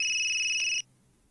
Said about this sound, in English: The victim's phone suddenly rings.